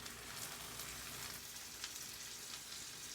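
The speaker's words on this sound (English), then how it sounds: "We just have to wait for our butter to melt through, which it almost is." Butter melting and sizzling in a frying pan while hashbrowns cook, giving a steady, close crackle with fine spitting pops and no voices.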